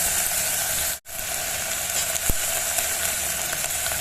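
Masala sizzling in a pot with onions and whole mung dal for khichdi, a steady loud hiss and crackle that continues throughout, broken by a brief silent gap near the start and a single soft knock later.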